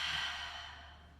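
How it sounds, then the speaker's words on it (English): One long, close exhale through the mouth during a yoga stretch, a soft airy rush that starts strong and tapers off gently, with no voice over it. "Inhale through your nose. Exhale through your mouth."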